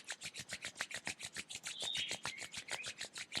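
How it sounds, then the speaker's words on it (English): Palms rub briskly together in a quick, even back-and-forth rhythm, close and soft, about a dozen rasping strokes with no talk. "And then rub your palms."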